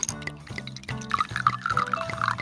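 A hazy milkshake IPA beer pours from a freshly opened can into a glass, a steady liquid glug with bubbly fizz rising underneath, close and fairly clear with no talking.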